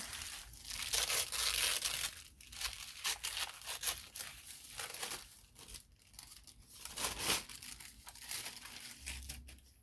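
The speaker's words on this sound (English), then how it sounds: "then tear some of this" Paper tears and crinkles from an altered composition book, close and repeated in uneven bursts of ripping and crumpling with no talk.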